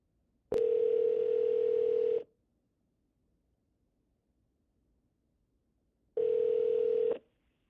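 An outgoing phone call to an AI voice booking agent rings back with two long steady tones, the first about a second and a half and the second shorter after a gap of several seconds of near silence.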